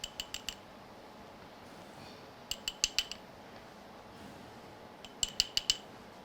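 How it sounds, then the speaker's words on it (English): Small metal spoon tapping and clinking against a container while scooping holographic craft powder, three quick bursts of light bright clicks spaced a couple of seconds apart, close and alone. "I've got a little bit of a spoon here, so I'm just going to take a little bit of each one of these"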